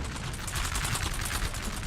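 Musket volley fire in a Napoleon Total War battle, a rapid ragged crackle of many overlapping shots rolling continuously for a couple of seconds, dense and fairly loud.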